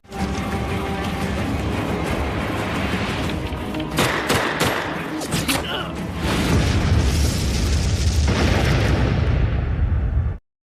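A German Panzerschreck rocket launcher is fired amid a film battle, with loud booms and explosions over continuous gunfire and a dense wartime din that cuts off abruptly.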